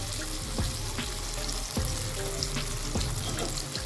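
Steady, close sizzle of frying in very hot oil, with a few sharp crackles and pops breaking through the continuous hiss; no one speaks.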